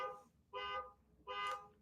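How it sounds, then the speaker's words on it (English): An alarm beeping nearby in a home setting, three evenly spaced tonal pulses about three quarters of a second apart, moderately faint with quiet gaps between. "Someone's alarm is going off."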